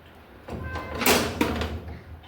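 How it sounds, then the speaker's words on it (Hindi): A house door is opened at home with a short rattle and a sliding bump followed by a sharp click, fairly close and moderately loud, with faint room noise around it. "थैंक यू दरवाज़ा खोलने के लिए"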